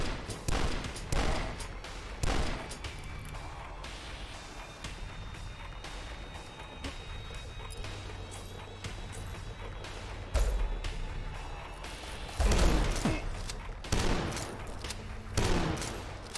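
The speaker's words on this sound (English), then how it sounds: "Probably shouldn't be using the super shotgun at that kind of range." Super shotgun fire in DUSK: heavy, booming blasts go off in irregular bursts amid a steady din of combat noise, some shots landing close and loud.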